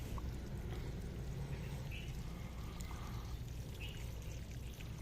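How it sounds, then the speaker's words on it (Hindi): Water pours steadily onto the soil of a potted rose plant, a continuous close trickle and splash lasting the whole stretch without a break, with no talking. "अब दोबारा से एक बार इसको पानी दे देते हैं"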